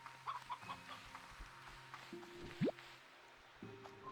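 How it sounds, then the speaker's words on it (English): Chickens clucking in the video game Slime Rancher 2: faint, scattered clucks and a short rising squawk over soft sustained game tones. "Chicken, chicken, chicken."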